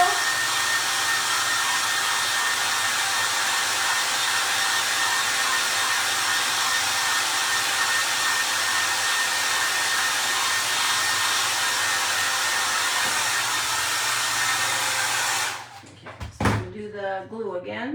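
A hair dryer blows steadily and loudly at close range for about fifteen seconds to dry glue on a Dollar Tree candle decoration, then shuts off with a thunk, and a voice starts speaking.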